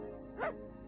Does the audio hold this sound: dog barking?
yes